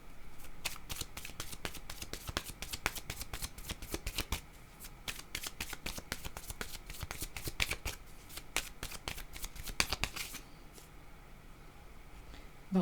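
Oracle cards being shuffled by hand in repeated quick riffling bursts, close and crisp, stopping near the end before a card is drawn, no voices.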